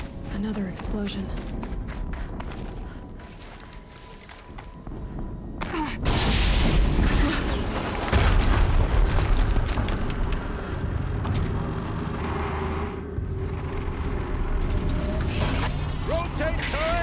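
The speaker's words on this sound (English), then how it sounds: "Another explosion." Explosions in Horizon Zero Dawn gameplay, a big booming blast followed by rumbling, crashing debris over heavy game ambience, with a voice talking intermittently.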